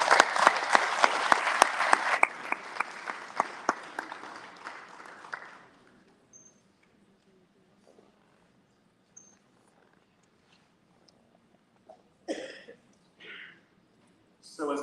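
An audience at an EarthX energy talk applauds to welcome a speaker, a loud burst of clapping that fades away after about five seconds, followed by quiet room noise and brief murmurs.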